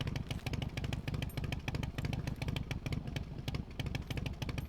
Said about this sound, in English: At least the engine's still running.